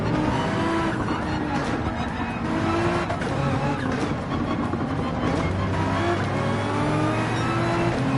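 A Nissan GT-R race car in the racing game Gran Turismo 7 holds a steady, loud engine roar throughout, with tire noise and shifts in pitch and no talk over it.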